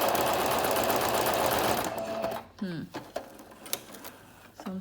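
A Singer Brilliance 6180 sews a buttonhole with a one-step buttonhole foot in a dense mechanical chatter for two seconds, then stops, followed by clicks and a brief spoken word.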